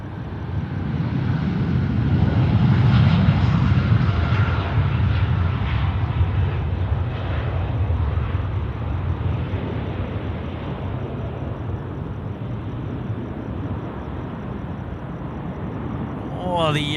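An All Nippon Airways Boeing 787-9 heavy taking off at night bound for Haneda, a distant broad jet engine roar that swells and then slowly fades, with people talking over it.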